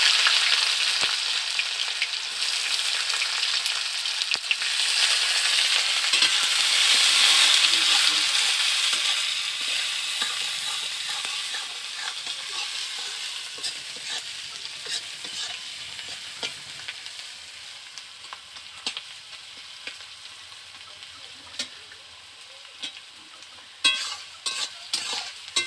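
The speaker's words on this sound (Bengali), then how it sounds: "একটু গরম হলো, এবারে পেঁয়াজ দিলাম।" Onions sizzling in hot oil in a pan for a home-style chicken curry, a steady crackling fry loudest early, then settling into softer sizzle with scattered pops and stirring clicks, no talking.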